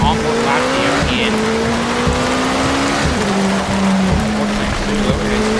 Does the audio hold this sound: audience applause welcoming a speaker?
no